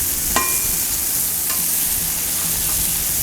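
Beef burger patties sizzle loudly and steadily on a hot Blackstone griddle after being flipped. The close, constant hiss is broken by a few faint scraping clicks, with no voices.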